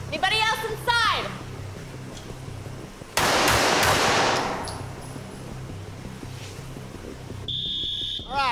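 Gunfire during a police shooting training scenario indoors, several sharp loud bursts and cracks in quick succession, with shouted voices and a beeping alarm tone near the end.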